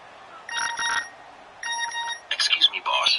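A phone text-message alert from an EA Sports football video game on PS4 sounds as two short bursts of bright, ringing electronic tones. A voice follows right after.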